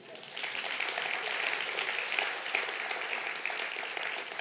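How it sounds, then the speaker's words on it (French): A church congregation at a French-language prayer service applauds steadily, a dense, moderately distant clapping that swells slightly and carries on for several seconds without pause. "Oui, vous pouvez acclamer la parole de Dieu."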